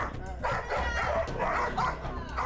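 A Pungsan dog barks in several loud, close bursts spaced through the moment, with whiny yips between them and some human voices in the background.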